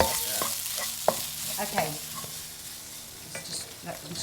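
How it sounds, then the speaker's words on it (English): Curry fries in a pan with a continuous close sizzle while a utensil stirs, giving a few sharper scrapes and knocks; a voice briefly says a single word. "Look, that's frying"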